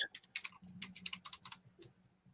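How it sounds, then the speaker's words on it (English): Rapid keystrokes on a computer keyboard, a quick, uneven run of soft clicks heard faintly through a call, trailing off into a few scattered taps with no one speaking. "just mute yourself, Marla, when you're typing"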